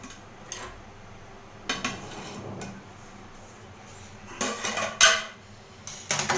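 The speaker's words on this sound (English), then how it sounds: "Time to open the lid and check on our biryani." Metal clatter and clinks as the lid comes off a pot of homemade Kolkata-style chicken dum biryani, a few sharp knocks and scrapes in a quiet kitchen, loudest near the end.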